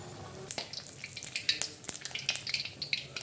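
Amaranth leaf vadas dropped into very hot oil and frying, with a steady scatter of sharp crackles and pops, close and fairly quiet, with no talking.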